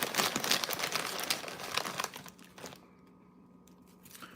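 Fritos corn chips are crunched while eating spicy chili, in a run of close, dry crackling bursts that fade into near quiet.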